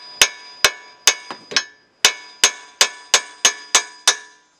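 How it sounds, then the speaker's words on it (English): Hammer blows ring out against the steering knuckle of a 2003 Nissan Maxima to pop the ball joint loose, about eleven sharp metallic strikes in an uneven rhythm, close and loud, with a brief ringing decay after each hit. "you want to hit the knuckle right here. It'll actually break it loose, it'll pop out."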